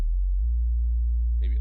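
An Ableton Operator synth patch played dry, with no glue compressor: a steady, pure low sine-like tone that holds and shifts slightly in pitch, then a brief higher buzzy chirp near the end, clean and alone.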